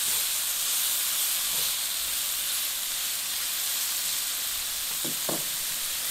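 Cut-up vegetables and tilapia hiss and steam steadily in a hot pan on a grill, a continuous broadband sizzle with a couple of faint clinks near the end.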